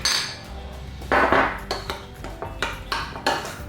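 A utensil stirs sweetener into a creamy mixture in a bowl, making repeated clinks and scrapes against the bowl in an uneven rhythm, close and clear with no talking.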